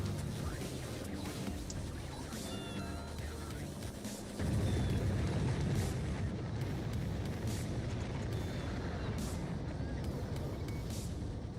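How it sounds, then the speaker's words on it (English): A rocket launch in Factorio, a factory-building game: a deep rumbling roar swells suddenly partway through and holds steady, loud and continuous, over the game's ongoing mechanical background. "Well, that was a rocket launch."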